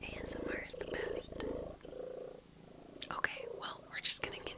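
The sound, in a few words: cat purring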